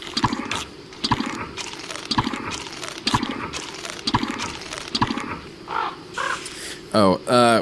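A crow in the video game Don't Starve caws repeatedly in a regular rhythm of sharp calls, mixed with game ambience and a voice talking over the final seconds.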